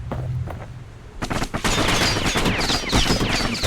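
Enemy weapons fire in rapid, dense volleys in the action game Bastion, with a few scattered shots first and then a loud, sustained burst of crackling gunfire.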